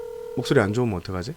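Telephone ringback tone sounding briefly while placing a call to a reporter, a steady tone at the start quickly overtaken by nearby speech.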